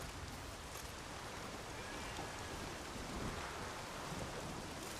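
A storm in The Witcher 3 pours heavy, constant rain, with a low thunder rumble rolling beneath the wash of noise and a faint hint of crashing waves.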